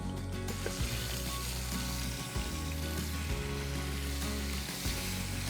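Fish sizzling and frying steadily in a pan at an outdoor bush cooking setup, a continuous close crackle with a low rumble underneath and no talking.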